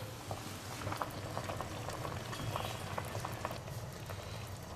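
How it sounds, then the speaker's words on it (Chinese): A pot of black fish soup simmers at a steady boil, with continuous bubbling and popping that stays close and fairly even for the whole stretch, with no voices. "鱼汤炖的差不多了，我们打开看一下。"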